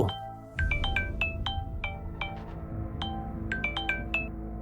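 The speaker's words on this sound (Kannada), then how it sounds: "ಅವನಿಗೆ ಒಂದು ಫೋನ್ ಬಂತು." A phone rings with a bright, chiming melodic tone, its notes repeating in quick bursts.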